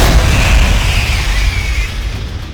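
A sword upgrade attack in the Doom mod Guncaster unleashes a massive, loud roaring blast that rumbles continuously and slowly fades over a couple of seconds, with no one talking.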